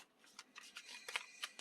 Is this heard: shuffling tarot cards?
yes